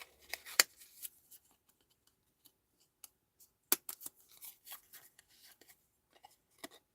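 Scissors snipping a hole in scraps of handmade card background paper, quiet scattered crisp cuts and paper rustles, close up with no talk.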